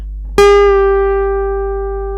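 A single picked guitar note rings out clearly on the third string at the twelfth fret, pre-bent a half step, then sustains and slowly fades with a clean harmonic tone and no talking.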